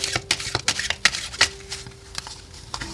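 Oracle cards shuffled by hand in a flurry of crisp, rapid riffles and taps, close and fairly quiet, with brief irregular gaps between bursts.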